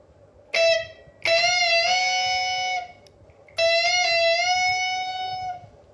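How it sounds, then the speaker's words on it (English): A blues guitar's B string is plucked and bent upward, each note ringing out clearly and rising in pitch before sustaining; two separate plucked bends are heard with a short pause between them. "That sound is you pluck number 2 string and you push it up."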